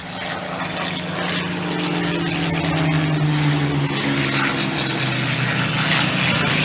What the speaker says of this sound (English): Oh, Spitfire with the D-Day markings.